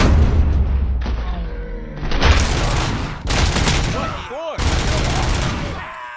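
Gunfire in Robocop: Rogue City, a dense run of loud, close shots and booms in bursts, with short gaps and a brief whooshing effect, under sparse speech.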